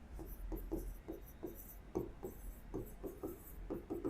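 Pen or pencil strokes scratching out trigonometry equations on paper, a steady run of short rhythmic scribbles and taps, close and fairly quiet, with no talking.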